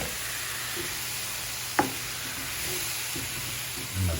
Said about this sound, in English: Just stirring the potatoes up.